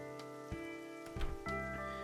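Steady rain in a visual novel video game, a continuous close patter spread evenly across the clip over a sustained musical background, with a few soft thumps and no voices.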